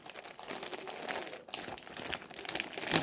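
Parcel packaging crinkling and rustling as a delivered package is opened by hand, an irregular stream of close, crisp crackles that grow a little louder toward the end, with no voices.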